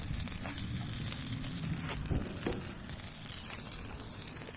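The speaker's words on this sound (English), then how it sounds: "Cooking some sausage on the Überleben" Sausages sizzling over a small flame on an Überleben Stöker flatpack bushcraft stove, a steady close crackle and hiss running throughout with no talking.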